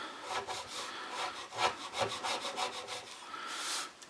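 A chisel slices through wood to trim it flush on a chair being built, giving a series of short rasping strokes that scrape steadily at close range with no talk.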